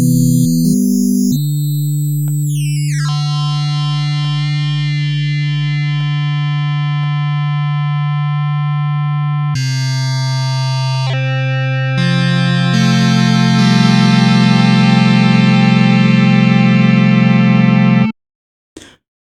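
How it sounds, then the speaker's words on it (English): Ableton Operator FM synth tone shifts as oscillator B and C coarse and fine tuning and levels change, modulating oscillator A: a loud, continuous electronic drone with sweeping, jumping harmonics and timbre changes, cutting off abruptly near the end. "changing the coarse and the fine tuning, as well as the levels of both B and C, is having an effect on the modulation that we hear in oscillator A."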